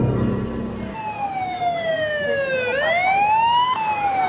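A police siren wailing in a rising and falling sweep, loud and fairly close, sounding on its own after a brief burst of other sound at the start.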